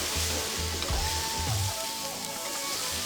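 Eggplant and potatoes with ginger, garlic and cumin sizzle steadily in a pan, a continuous frying hiss with soft scraping as the mixture is stirred.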